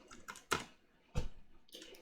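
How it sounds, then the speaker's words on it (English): Keys tapped on a computer keyboard while terminal commands are entered, a few separate clicks with two sharper, louder strokes spaced apart, close and clear against a quiet room. "Then here we're gonna type the commands in the following order."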